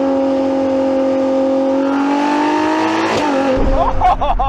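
A Ferrari V12 hypercar engine revving past 9,000 RPM, its loud, smooth tonal wail rising steadily in pitch before a quick drop at the upshift into second, then pulling again with a crisp note, close and without talking.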